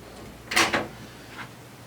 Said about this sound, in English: Now pull that door.